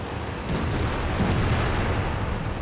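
Two deep booming tank gun shots in a tank video game, probably from a Centurion Mk. 7/1, land about a second apart over a steady roar of engine and battle noise, with no voices.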